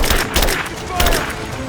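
Gunfire crackles in a chaotic firefight in Rise of the Tomb Raider, rapid muffled shots and booms thumping close under constant shouted voices.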